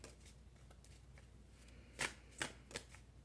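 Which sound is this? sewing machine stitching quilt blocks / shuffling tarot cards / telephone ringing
shuffling tarot cards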